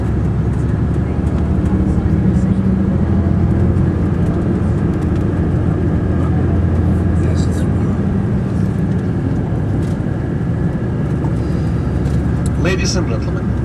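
A bus climbs a Montenegro mountain road of 25 hairpin turns built in the late 19th century, its engine a steady, droning road rumble running continuously beneath a speaking voice.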